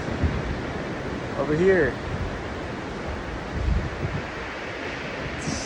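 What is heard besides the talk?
ocean waves breaking, spring surf in New Hampshire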